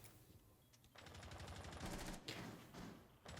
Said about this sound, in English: bullets are just flying across the map currently